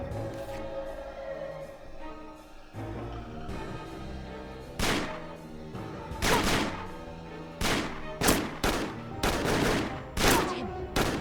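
A drug smuggler opens fire in Murder in the Alps, a series of loud sharp gunshots cracking in irregular bursts over tense background music.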